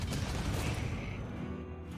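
An incendiary lance fires in the RimWorld video game, a dense, roaring burst of noise that holds steady for about two seconds and stays loud throughout, with no talking.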